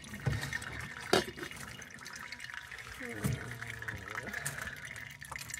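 Water runs from a sink tap through a Katadyn filter in a camper van, a trickling, splashing flow with a few louder knocks and gurgles, close by, under quiet voices speaking French.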